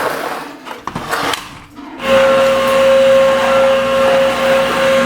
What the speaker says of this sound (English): Mummy's doing the hoovering